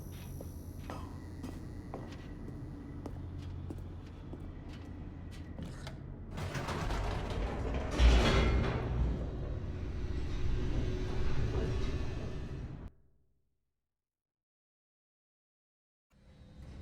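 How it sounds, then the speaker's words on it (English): An elevator descending in the video game The Stanley Parable, with low mechanical rumbling and creaking that builds into a loud grinding rush with a heavy thud, then cuts to silence before resuming faintly. "The elevator raced downward, plummeting towards an unknown fate."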